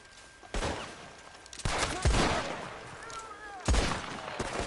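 Gunshots in the video game Red Dead Online: three loud, widely spaced single shots, each with a sharp crack and a short echoing tail, over quieter game ambience.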